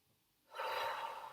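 A single deep breath drawn in slowly through the nose into the belly, a soft rushing inhale that swells after a quiet start and holds, close and fairly faint.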